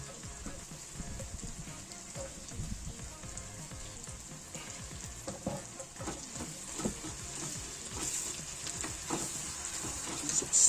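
Garden vegetable pieces sizzle and crackle in hot oil in a pan while being stirred, with a steady close frying hiss and irregular scraping clicks of the utensil throughout.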